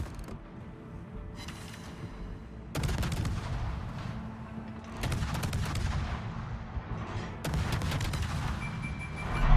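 Heavy ship gunfire booms in a World of Warships naval battle, with three loud salvos spaced a few seconds apart over a dense, rumbling background of game noise.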